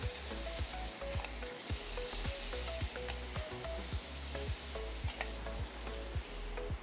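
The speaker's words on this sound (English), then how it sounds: "This is my sizzling dish here. And now I'm going to place" Shrimp sizzling on a hot sizzling dish at a Barbados food festival, a steady loud hiss with a run of regular sharp crackles and pops close by, with no voices over it.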